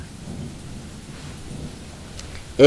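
A thunderstorm with rain and lightning in a jungle audio drama: steady rain rustling under a low continuous rumble of thunder, ending in a sudden louder swell at the very close.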